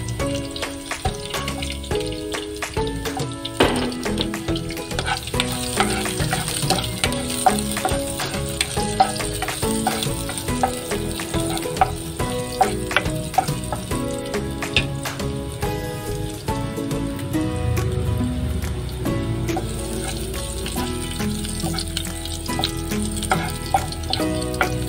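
Garlic sautéing in a frying pan as the first step of a sardine dish gives a steady, close crackling sizzle that runs throughout, with light stirring and background music underneath.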